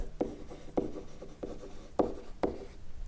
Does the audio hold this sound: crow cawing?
no